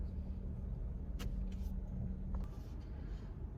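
Slow Memorial Day road traffic in New York, heard from inside a car stuck in it: a steady, faint low rumble of engines with a few soft passing noises, no talking.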